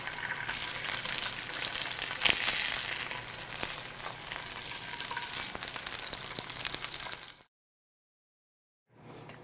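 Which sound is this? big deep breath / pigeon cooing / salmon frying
salmon frying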